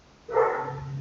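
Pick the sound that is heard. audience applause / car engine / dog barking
dog barking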